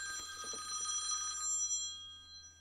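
A telephone rings with a steady electronic bell tone at a moderate distance, fading out after about a second and a half, leaving quiet room hum and no speech.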